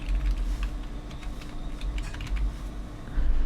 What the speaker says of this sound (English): I'm typing that out so I don't forget.